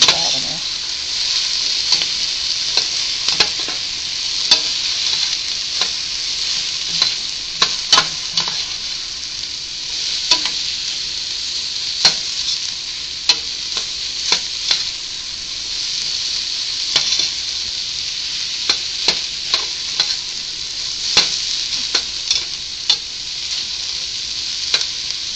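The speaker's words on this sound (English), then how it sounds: "You're stirring often until the vegetables are softened and the pan has a little fond" Chopped vegetables for minestrone sizzle steadily in a hot pan while being stirred often, a continuous frying hiss broken by frequent scrapes and clacks of the spoon against the bottom, close and fairly loud with no talking.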